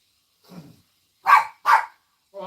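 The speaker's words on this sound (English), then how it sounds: "Can't have the puppy playing with the chicken during the broadcast." A puppy named Midgie plays with a chicken toy, letting out a faint yip followed by two louder, close barks or squeaks in quick succession and a brief final sound, with no talk.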